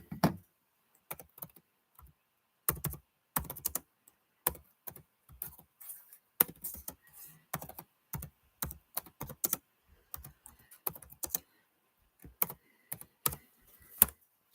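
Someone types on a computer keyboard in quick bursts of clicky keystrokes separated by short pauses, close and clear with no talking.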